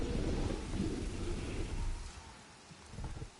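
Rumbling thunder rolls through a heavy, continuous storm wash with rain in the Jurassic World Evolution game, loud and sustained before easing slightly near the end.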